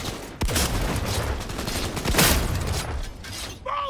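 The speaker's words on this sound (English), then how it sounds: "there's a random gunfight happening just over here that we could invite ourselves in on" Rapid bursts of automatic gunfire crackle through a chaotic firefight in the video game Cyberpunk 2077, loud and sustained with sharp impacts and mechanical clatter filling the whole stretch.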